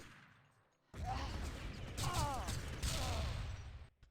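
Rapid bursts of gunfire in a competitive online shooter match, a dense close-range exchange of shots with mechanical clatter, starting abruptly after a quiet moment and continuing loudly until cutting off.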